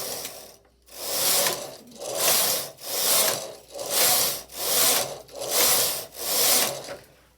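Knitting machine carriage drawn back and forth across the bed, knitting straight rows for a single neckband: seven steady, evenly spaced rattling, ratcheting sweeps, each swelling and fading, close and loud with no talk.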